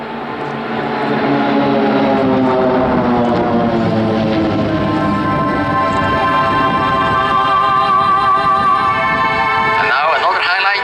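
A formation of Swiss Air Force PC-7 propeller planes passes at an airshow, a loud droning buzz with shifting whine that swells, holds and fades as they fly by.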